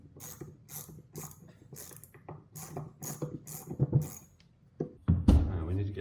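A small hand ratchet clicking in quick bursts while being worked on a vintage hundred-year-old wood lathe, close and crisp, with pauses between runs and a few heavier metallic knocks near the end.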